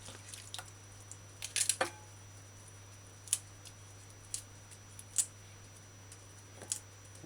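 Knife cutting the big stem off broccoli: several sharp, crisp snips and clicks spaced irregularly over a quiet kitchen hum.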